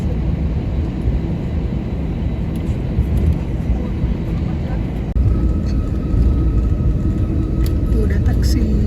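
An airliner taxis toward the runway on a Jakarta–São Paulo flight, heard from inside the cabin as a steady engine roar and rumble with occasional bumps, while a person talks over it.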